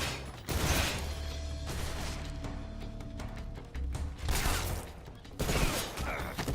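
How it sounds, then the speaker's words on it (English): M63 machine gun firing in Metal Gear Solid Delta, loud sustained bursts of automatic fire separated by brief pauses, with mechanical clatter between the volleys. "Time to test out our new gun. The M63."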